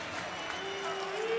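Indoor crowd at a 2012 Minnesota vs Purdue college volleyball match applauding a player, a steady, dense wash of clapping and cheering throughout, with a faint whistle-like tone rising near the end.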